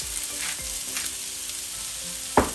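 Vegetables fry in a pan over medium heat with a steady, crackling sizzle, a few louder pops and a sharp clatter near the end as they are stirred, no talking.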